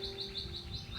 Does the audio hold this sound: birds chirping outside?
yes